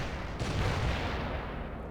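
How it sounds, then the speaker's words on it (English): Napalm strike explosions roar in the World in Conflict strategy game, a dense continuous rumble of blasts and burning fire with a swell of heavier booms near the middle, loud and close with no voices. "Napalm strike deployed."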